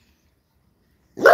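Dog giving a single short, sharp bark right at the end after near silence, close and fairly loud.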